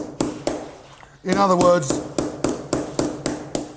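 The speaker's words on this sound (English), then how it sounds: "You must use a very small, sharp pencil chisel." A small, sharp pencil chisel chips at material in a Victorian home, struck in a steady series of sharp taps roughly every third of a second, briefly broken by someone speaking.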